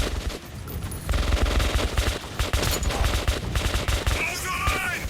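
Volley of gunfire in a solo tunnel-level shooter game: dense, loud repeated shots in rapid overlapping bursts throughout, with faint voices in the background.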